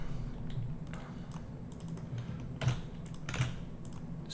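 Irregular bursts of keystrokes on a computer keyboard, light clicks and a few firmer taps in short runs, close and quiet, with no voices.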